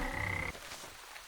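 A frog in the video game Wytchwood gives one short, loud croak with a buzzing tonal drone that cuts off abruptly, followed by quiet rustling.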